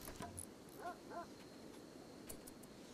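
A dog in the video game RimWorld gives a few short yips and whimpering barks, faint and game-like over a steady low background hum.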